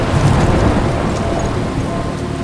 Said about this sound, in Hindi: मैं एक तूफान में फंस गई हूँ।